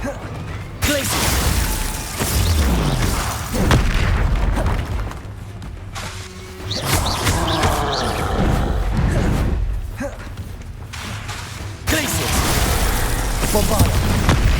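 Bombarda explosion spells booming repeatedly in the Hogwarts Legacy video game, loud dense blasts and rumbling bursts spread across the span alongside spell effects, with a voice shouting spell names over the action.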